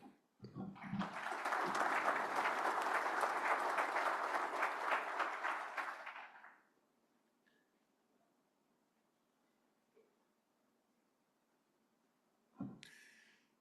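An audience at an agricultural policy summit bursts into sustained applause for speaker Dr. Richard Gray, steady dense clapping for about six seconds before tapering off, then a quiet room with a short rustle near the end.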